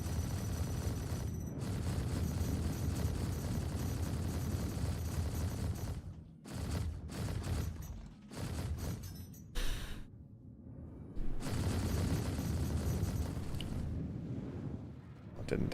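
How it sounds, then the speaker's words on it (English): Sustained gunfire while shooting NPCs in a space-flight video game, a dense roaring barrage that breaks into short stuttering bursts and gaps midway before resuming full and loud, with occasional talk. "let's just start shooting these NPCs here"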